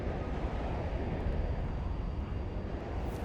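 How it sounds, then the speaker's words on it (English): In the WARNO strategy game, jet aircraft fly in as a steady, dense engine roar that holds at an even loudness throughout, with no speech over it. "Jets coming in somewhere down here."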